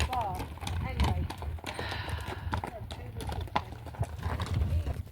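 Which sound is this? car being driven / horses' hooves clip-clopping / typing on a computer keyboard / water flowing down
horses' hooves clip-clopping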